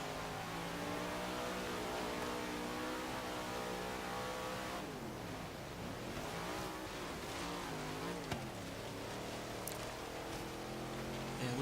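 Rear-wheel-drive car in Forza Horizon 3 on a snowy mountain, its engine droning steadily and loud throughout, pitch sweeping up and down as it revs and shifts, with a brief tire squeal and a faint voice briefly underneath.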